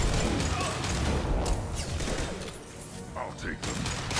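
Steady rattling gunfire fills a Mass Effect 2 battle, loud and continuous with scattered impacts and mechanical clatter, a voice briefly heard over it.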